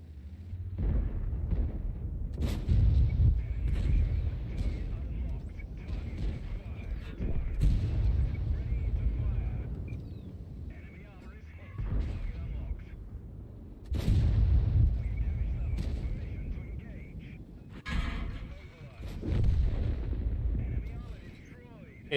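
Repeated heavy booms of tank and artillery gunfire in World of Tanks, several loud blasts with rumbling tails spread across the stretch, with a voice talking over parts of it.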